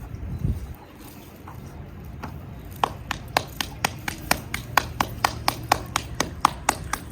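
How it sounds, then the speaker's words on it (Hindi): Knife chopping fruit on a board outdoors beside a wood fire during iftar preparation: a steady run of sharp, evenly spaced taps starting a few seconds in, close and fairly quiet, with faint bird calls in the background. "फ्रूट काटना शुरू कर दिया है"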